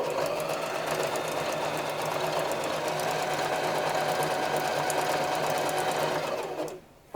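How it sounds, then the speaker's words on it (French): A sewing machine stitches the seam of a fabric bag in one steady, loud run of close mechanical whirring, which stops abruptly just before the end. "On va faire une couture."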